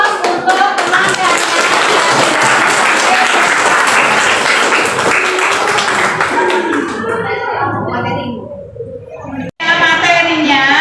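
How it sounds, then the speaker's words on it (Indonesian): A classroom of students applauding their classmates, a dense burst of clapping from many hands that stays loud for several seconds and then thins into scattered claps, with voices mixed in. "Kasih applause untuk teman-teman."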